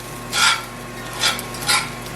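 Salmon patties cook in a frying pan with no oil, and a utensil scrapes and shifts them in three short bursts against a faint background sizzle.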